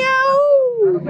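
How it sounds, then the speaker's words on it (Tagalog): A fluffy cat gives one clear, close meow that rises slightly and then falls away, with no talk over it. "Meow."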